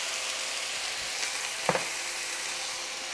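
Small cut potatoes seasoned with garlic salt and black pepper fry in a pan with a steady, even sizzle, and a brief stirring scrape cuts in near the middle.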